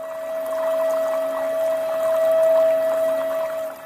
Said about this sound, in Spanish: El agua baja con toda su fuerza por estos grandes tubos